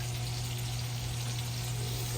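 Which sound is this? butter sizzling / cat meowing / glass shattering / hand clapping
butter sizzling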